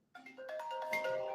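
A phone ringtone plays a short bright melodic tone pattern, fairly quiet, with no talking over it.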